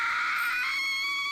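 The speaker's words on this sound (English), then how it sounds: "Oh, that's a nasty scream!" A shrill, nasty scream from the visual novel Higurashi When They Cry, loud and piercing, sustained for about a second and a half with no talk.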